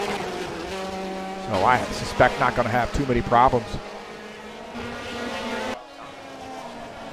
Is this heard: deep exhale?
no